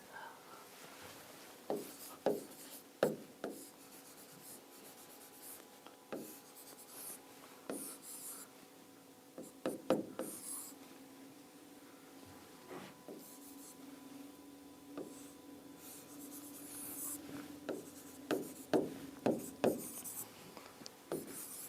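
Marker strokes squeak and scratch across a classroom board as homework circuit questions are written out, coming in short bursts of tapping and rubbing with pauses between, close and fairly quiet, with no talk.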